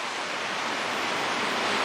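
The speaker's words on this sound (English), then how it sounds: "it is just pouring in Camas, Washington" Heavy pouring rain in Camas, Washington, a dense steady broadband hiss with no breaks, loud and close throughout.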